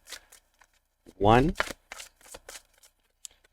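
A tarot deck is shuffled in brief crisp riffles and taps, interleaved with a person talking nearby in short bursts.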